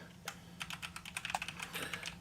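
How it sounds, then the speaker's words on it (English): Computer keyboard keys click in quick, irregular bursts over a steady low hum, close and fairly quiet, with no talking. "All right, I'm typing a poll."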